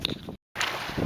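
Wind gusting across the microphone while paddling solo by canoe on a lake in Algonquin Park, a steady close rushing roar that cuts out briefly to silence partway through, then returns just as loud.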